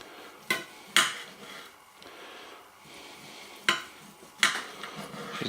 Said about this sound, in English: Now we've got to figure out how we want to carve this.